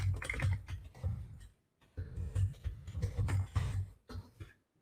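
Someone types a name on a computer keyboard, close and quiet: short bursts of rapid key clicks broken by brief pauses, no voices.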